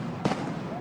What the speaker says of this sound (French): 21 coups de canon pour magnifier le capitaine Thomas Sankara, héros national